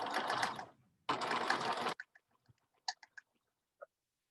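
A sewing machine stitches fabric in two quick bursts of rapid stitching, separated by a short pause, then a few light clicks and taps as the work is adjusted.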